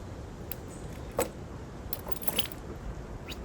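Metal keys jangle against a telescopic magnet pick-up tool in a few brief, separate clinks spread over a quiet, low background hum.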